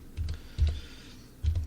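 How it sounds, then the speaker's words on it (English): A few separate bursts of keystrokes on a computer keyboard, close and fairly loud, with short gaps between them against a quiet room. "And as you can tell, I'm typing"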